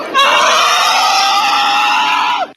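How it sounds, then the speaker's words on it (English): A man lets out one loud, sustained scream lasting about two and a half seconds, close and unaccompanied, ending abruptly. "Can I just let out a quick scream before we start this?"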